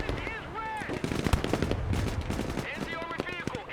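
Bursts of machine-gun fire from a Humvee's pintle-mounted gun in the Broken Arrow war game, rapid rattling volleys running throughout alongside other battlefield noise, with a voice talking over parts of it.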